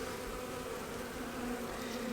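Honeybees buzz on a brood frame lifted from a hive, a steady close-up hum of many wings that holds evenly throughout without any voices.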